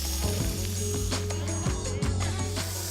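Lamb searing in a hot wok, a sizzle with clattering bursts, set against a loud steady low hum that is probably burner or fan noise.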